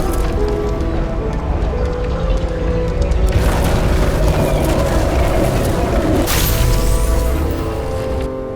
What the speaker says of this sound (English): Someone flooded the transformer and it caught fire.